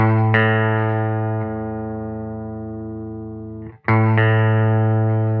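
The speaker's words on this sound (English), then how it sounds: "you take your E string, and you go up to the 5th fret. And that's an A note" A sustained plucked A note on the low E string at the fifth fret of a guitar, ringing out with distortion, decaying slowly, then plucked again near the end, loud and clear.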